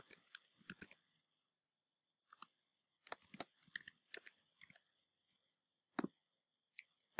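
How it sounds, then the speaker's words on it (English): Computer mouse clicks, sharp quiet taps in quick pairs and short clusters with pauses between, close and alone against a silent background. "I'm just double clicking on these to basically open them up"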